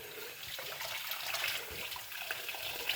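Tap water runs steadily into a bath while a puppy is rinsed, a soft continuous splashing rush with small irregular spatters.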